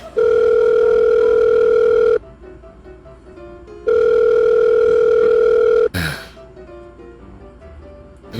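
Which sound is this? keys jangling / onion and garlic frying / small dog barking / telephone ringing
telephone ringing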